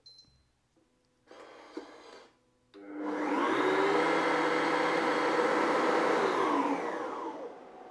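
Cecotec Mambo Touch kitchen robot starting a cooking program: a couple of short beeps and clicks, a brief whirring burst, then a loud steady motor drone that holds for several seconds before easing off, nearby and without voices.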